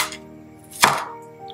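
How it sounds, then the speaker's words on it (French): A single sharp knife chop through vegetables on a cutting board during vegan batch cooking, close and distinct against a quiet kitchen with no talking. "j'ai du mal à couper les légumes"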